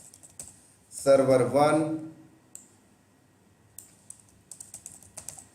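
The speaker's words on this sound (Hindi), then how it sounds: "मैं यहां पर टाइप कर देता हूं" Keys clack on a computer keyboard in quick light bursts and scattered clicks, near and crisp, after a short stretch of someone speaking.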